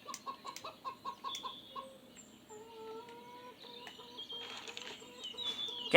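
Chicken in the Lost Lands video game clucks in a quick rhythmic series of short, clipped calls, then drawn-out squawks and further clucks over a quiet background, fairly close and clear, with no talking.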